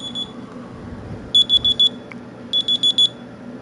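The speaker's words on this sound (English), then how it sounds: "Oh, my nap timer's going off." A phone-style nap timer alarm sounds during a racing session: two bursts of four rapid, bright electronic beeps, close and loud, over a low background hum.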